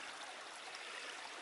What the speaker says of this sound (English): if we follow the trickling stream